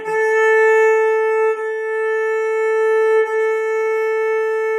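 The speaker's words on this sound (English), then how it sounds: "I'm going to play my A for you right now so you can hear it." A single sustained bowed violin note on the open A string, held steady with two brief bow changes, loud and close, no talking.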